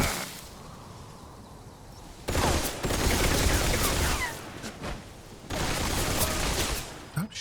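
Bursts of rapid gunfire in the Metal Gear Solid Delta video game, dense fusillades broken by a short lull, fairly loud and close with other game sounds mixed in.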